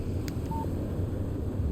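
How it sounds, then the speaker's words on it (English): A short phone text-message alert in Alan Wake Remastered, a brief tonal chime that rings out once over a steady low rumble of game ambience. "Text message from Barry."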